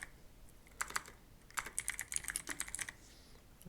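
Keys clatter in two quick bursts of typing on a computer keyboard while entering a search into the Windows search bar, close and crisp with short pauses between strokes, no voices.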